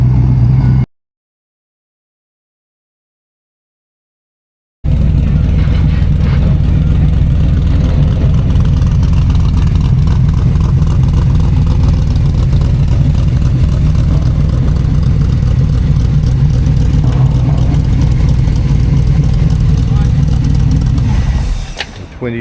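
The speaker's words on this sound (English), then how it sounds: "A 23T bucket with an LSA motor. As you can hear, she's a bit grumpy." A 23T bucket hot rod with an LSA motor idles roughly and grumpily up close, a loud, dense low rumble that runs steadily after a brief silent gap and fades slightly at the end.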